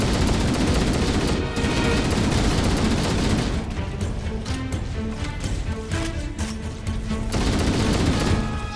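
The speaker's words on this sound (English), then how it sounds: "Okay, now I'm just taking fire from places." Halo: Combat Evolved video game gunfire, dense overlapping rapid automatic bursts and single shots rattling loudly without pause for nearly nine seconds, with brief tonal game effects mixed in.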